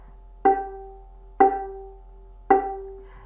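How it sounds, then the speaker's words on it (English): Three plucked violin G notes on the D string, each a sharp pizzicato attack that rings briefly and decays, spaced about a second apart with no talking. "that plucking hand, plucks on the D string in order to get that note"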